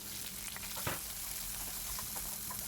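Garlic, green chilli and onion frying slowly over low heat in a pan, giving a steady close sizzle with soft crackles throughout and one brief louder pop of stirring near the start.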